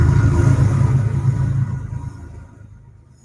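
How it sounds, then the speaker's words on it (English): A passing train makes a loud, deep rumble close by that gradually fades and recedes over a few seconds, with no voices. "Sorry, train."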